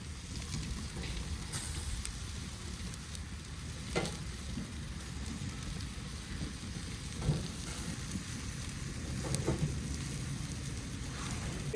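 Barbecue grilling outdoors on a chilly day, with meat and kebabs cooking, giving a steady close sizzle and crackle throughout and a few sharper pops standing out from the continuous frying hiss.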